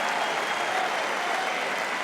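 Sustained applause from a large tennis crowd at Roland-Garros during the 2011 men's final, a dense, even roar of clapping from a full stadium.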